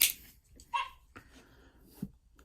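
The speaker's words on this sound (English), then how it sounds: "Just ignore the annoying yapping dog in the background." A small dog yapping repeatedly in the background of a room, several short high yips and barks spread unevenly across the moment, moderately loud with no voices over them.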